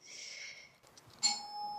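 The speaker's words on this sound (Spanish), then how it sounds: "Acaban de picar al timbre." A doorbell at a newly rented home in Seoul gives a soft two-tone chime, faint and slightly distant, the second tone brighter and ringing on in a quiet room.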